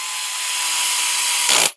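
Handheld power screwdriver driving a ball stud into an RC car shock tower, a steady whirring motor run that rises slightly, then a brief louder grinding burst before it cuts off.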